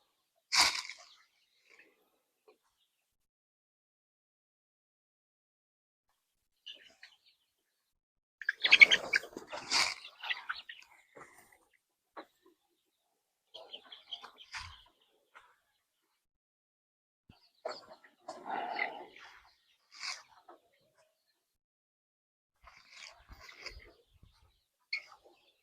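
Chicks peep in a brooder in short, high, scattered bursts separated by long stretches of silence, some clusters louder and busier than others.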